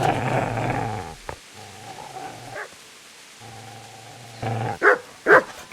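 A dog in the medieval game Kingdom Come Deliverance growls with a low sustained rumble in several stretches, then breaks into a few sharp barks near the end.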